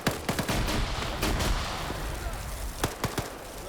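Automatic grenade machine gun fire at point-blank range in a military video game, with rapid dull thumps and blasts layered over a constant roar of battle.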